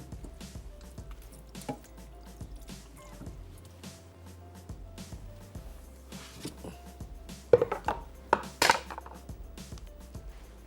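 Skinless, thickly cubed tomatoes are stirred in a pan on a low flame, making soft wet squishing and sloshing sounds that stay quiet at first and then swell into a few louder, juicy bursts near the end, with no talking.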